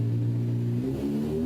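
A 600cc racing superbike engine revs in a steady, loud, close drone, its pitch climbing slightly toward the end with no voices over it.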